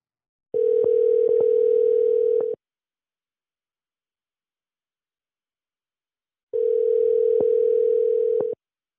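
A steady telephone line tone sounds in two separate long beeps about two seconds each, with silence between them, as a call is placed.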